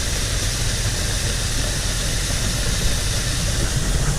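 A grain bin sweep auger spinning inside a corn bin, driven by a motor, giving a dense, steady mechanical drone and grinding hiss, loud and unchanging throughout with no voices.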